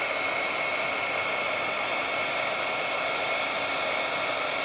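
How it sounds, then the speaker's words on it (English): A heat tool blows steadily to set gilding flakes on a stamped card, a constant, close, even hiss-roar that holds without a break throughout. "I'm going to heat the bottom of this one so it will stick."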